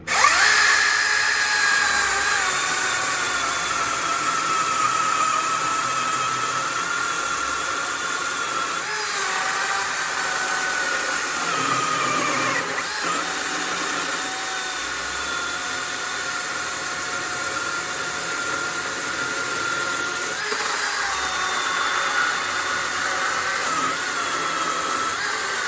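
Milwaukee M18 dual-battery chainsaw cutting the end off a log of extremely dry ash, a steady high-pitched motor whine held loud and close for the whole stretch, with slight shifts in load and no talk.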